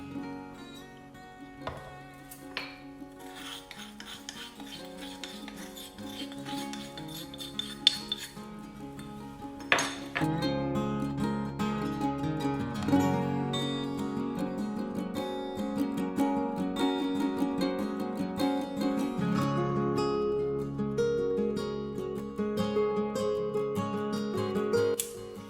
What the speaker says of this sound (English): I'm going to sieve the gram flour before I add in here